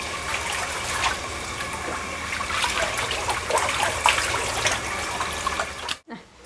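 Water running steadily from a tap while dishes or food are rinsed, a dense close splashing rush that holds for about six seconds before cutting off abruptly.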